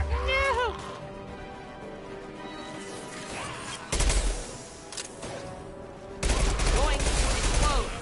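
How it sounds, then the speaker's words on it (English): Heavy bursts of automatic gunfire and explosive crashes in the video game Mass Effect 2, loud rapid volleys coming in waves, with game characters' voices calling out between them. "Taking heavy fire!"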